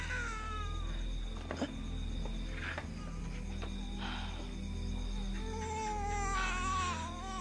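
Baby crying in drawn-out, wavering wails with cat-like, meowing tones, repeated over several seconds against a low constant hum, with a few faint clicks between cries.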